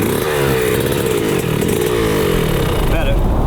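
A motorcycle engine buzzes and revs steadily through a gear change, loud and close, with a voice talking over it.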